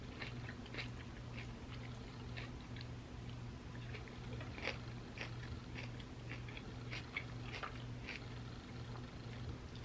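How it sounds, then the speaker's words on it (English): Kimchi chewed close to the mic during a vegan mukbang, soft repeated wet crunches and squishy bites over a faint steady hum, quiet with no talk. "I'm going to try some of the kimchi now."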